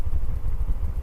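A 50cc Honda C90 Cub motorcycle runs on a road, its small engine putting out a steady low, throbbing burble with a slight clatter, close and fairly loud, with no talking.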